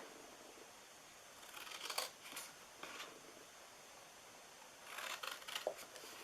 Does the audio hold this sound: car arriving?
no